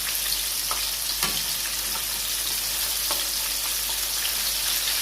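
Chicken wings fry in a pan of hot oil, a dense, even sizzle that runs on steadily with a few sharp pops and crackles scattered through it, close and with no voices.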